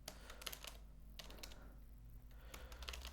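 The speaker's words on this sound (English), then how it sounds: "If I type script" Keystrokes on a computer keyboard while writing website script code, quiet clustered taps in short bursts with a pause in the middle, over a steady low hum.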